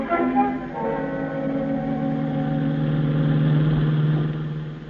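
A taxi cab engine hums steadily while driving, a mid-pitched motor drone with a slight swell partway through, close and alone with no voices, as in a radio drama sound effect.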